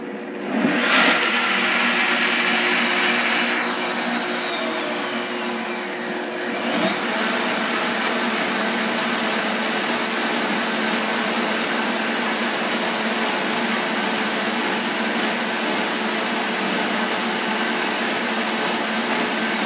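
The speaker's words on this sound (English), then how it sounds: "we have all our ingredients on our blender. I'm going to blend everything together" A blender runs steadily on black bean chocolate cake batter, a loud continuous whirring roar with a brief dip in pitch and level near the start before settling into an even, sustained grind with no voices.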